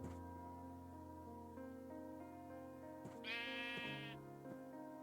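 Minecraft sheep giving a single wavering bleat midway through, clear and fairly close over a soft, sustained background of game music.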